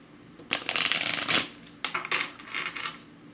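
Tarot cards are riffled and shuffled close up in two loud bursts, the second shorter and softer, with brief pauses between, and no voices.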